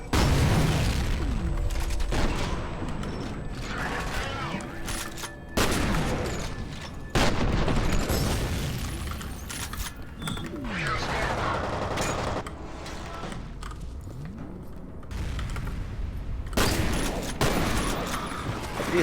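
Repeated shotgun blasts and heavy gunfire in the video game F.E.A.R., loud booming shots firing in irregular bursts over roughly twenty seconds amid a busy combat soundscape.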